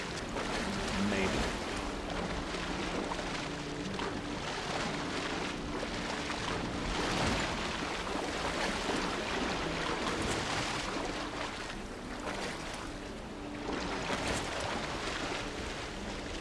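Ocean waves in the Valheim video game wash and surge steadily in a broad, continuous roar. Wind noise rides over them, and louder swells build at intervals.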